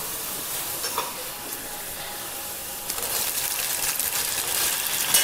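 Dal fry ingredients sizzling in a pan over low flame, a constant bright hiss that grows louder and denser partway through, with faint stirring scrapes and no voices.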